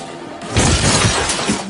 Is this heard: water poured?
no